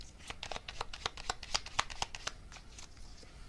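Message cards for a tarot-style reading are shuffled by hand in a rapid run of soft papery flicks and snaps, close and fairly quiet, thinning out toward the end without speech.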